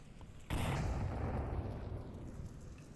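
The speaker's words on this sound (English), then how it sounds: "Ooh, a nade." A grenade explodes in the Onward VR video game with a single sudden, loud blast after a brief quiet moment, followed by a long rumbling decay.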